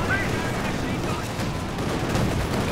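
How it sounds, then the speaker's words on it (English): A Katyusha rocket barrage in the Company of Heroes 2 strategy game roars as a dense, continuous wash of rocket launches and explosions, loud and sustained throughout. "The Katyusha barrage."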